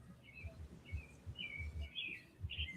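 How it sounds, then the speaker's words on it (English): Small birds chirp faintly through an open window, a scattering of short high tweets repeating across the moment over a low background rumble. "Who's the chirping birds?"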